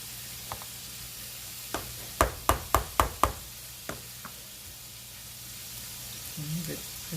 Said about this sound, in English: I'm going to go on and add the garlic and butter in here